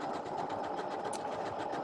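A Janome sewing machine runs steadily while sewing decorative serpentine stitches, a close, even, whirring rattle of rapid needle strokes with no pauses and no talking.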